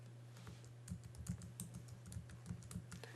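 Key presses on a computer keyboard in a short burst of a few taps, fairly quiet over a steady low hum.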